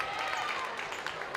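A crowd at a high school boys basketball game lets out a brief, sarcastic cheer after a foul call, with a broad wash of crowd noise and scattered clapping.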